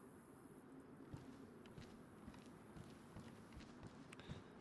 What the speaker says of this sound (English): definitely heard footsteps.